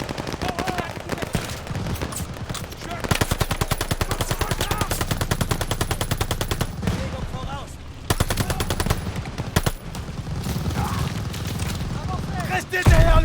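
Sustained heavy gunfire from Call of Duty: Vanguard, with dense rapid machine-gun bursts and scattered booms running loud and nearly continuous under shouted voices.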